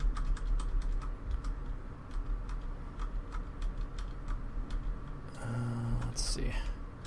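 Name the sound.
clacking computer keyboard being typed on hard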